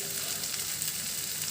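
Small fish charchari frying in a pan, a steady close-up sizzle and crackle of oil with faint scattered pops, continuous throughout, without speech.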